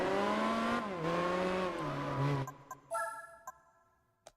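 Rally car engine in Gran Turismo 4 revving and shifting, fairly loud at first, then cutting out into a few short clicks and blips against near silence.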